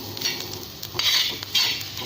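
A utensil scrapes and clinks through green chili kharda in a pan in a few quick strokes, close by over a faint sizzle.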